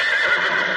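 A horse gives a short, bright whinny lasting under a second, fairly close and clear, with no voices over it.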